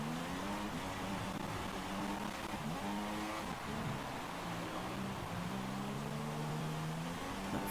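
An F1 car in the F1 2016 racing game accelerates toward the line, its engine pitch climbing and shifting through gears in a steady, moderately quiet whine with no talk over it.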